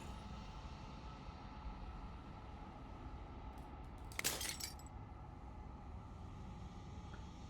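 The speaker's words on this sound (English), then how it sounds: "As the final fragment of glass shatters" Glass shatters once in Slay the Princess as a brief, bright crack of breaking fragments, faint and set against a steady low ambient drone.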